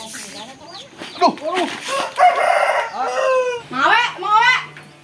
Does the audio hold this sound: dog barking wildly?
no